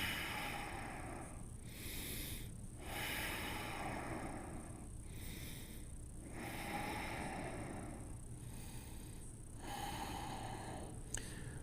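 Heavy rhythmic breathing during a strong vinyasa yoga core exercise, audible inhales and forceful exhales repeating about every couple of seconds, close and fairly quiet, with no talk over it.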